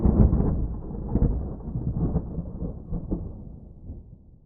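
Thunder rolls from a thunderstorm passing directly overhead while filming on a cliff, a loud, deep rumble that booms early and fades gradually over several seconds with no voices.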